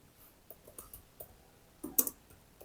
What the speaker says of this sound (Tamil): வாட் இஸ் மை ஐபி அப்படின்னு டைப் பண்றேன்.